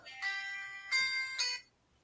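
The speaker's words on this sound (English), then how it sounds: "I got a phone call" An incoming-call ringtone sounds in clear, bright tonal bursts, three rings close together, followed by quiet.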